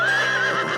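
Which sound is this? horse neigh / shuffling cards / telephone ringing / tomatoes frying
horse neigh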